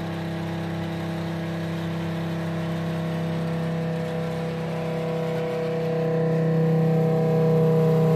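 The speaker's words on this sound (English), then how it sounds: "go ahead and turn the pump on" A water pump runs steadily during pressurization of a membrane filtration system in a clean-in-place setup, a continuous tonal hum and whir with several sustained harmonics that grows slightly louder toward the end, with no talk.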